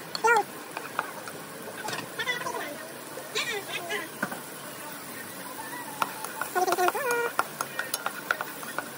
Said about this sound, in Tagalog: papakita ko po sa inyo kung paano magluto ako ng ginisang gulay